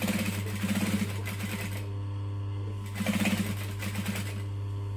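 A sewing machine stitches a lining seam in quick bursts: a rapid mechanical rattle runs, pauses, then runs again over a steady motor hum, close and clear.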